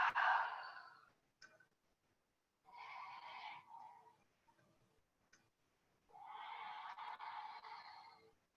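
Slow, smooth exhale during a yoga class, part of a sequence of hip openers and standing poses. Three soft, airy breaths drift in and out with pauses between, quiet and close, with no one talking.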